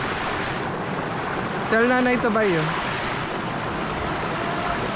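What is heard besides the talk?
river current flowing, Dica River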